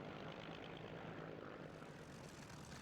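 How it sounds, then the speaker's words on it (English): A Merlin-engined Supermarine Spitfire Mark 9 flying at an air show at Duxford, its propeller engine droning steadily and loud, a continuous broad rumble that holds level without a distinct pass. "Another Merlin engine Spitfire."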